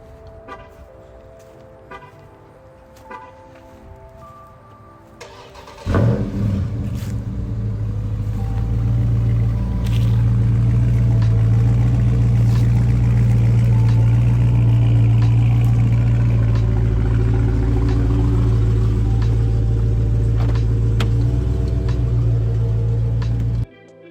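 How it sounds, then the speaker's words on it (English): 2019 Dodge Charger Scat Pack cold start with a mid-muffler-delete exhaust: after a few quiet seconds the engine catches with a sharp burst, then settles into a loud, deep, steady rumbling idle that runs for nearly twenty seconds before cutting off. "I want to quickly run outside and give you guys a little cold start"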